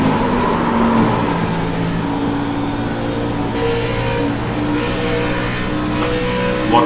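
A NASCAR Xfinity race car engine at Atlanta in the iRacing video game drones steadily at high revs, a loud continuous roar with slight pitch shifts as the car slides loose.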